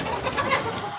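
Laying hens on a layers farm cluck and murmur together in a dense, continuous flock chatter, fairly loud and close with no talking.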